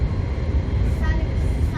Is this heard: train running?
yes